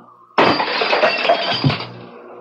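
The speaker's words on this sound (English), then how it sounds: "I just put my hand toward that goblet, and it shattered" A glass goblet shatters in an old-time radio drama, a sudden loud crash followed by a couple of seconds of tinkling, scattering shards settling alone.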